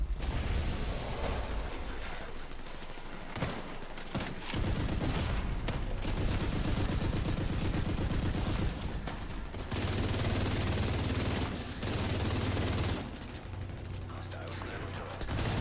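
A hostile sniper turret fires in The Division 2 amid heavy game gunfire, with repeated sharp shots and bursts in dense combat noise, plus intermittent voices.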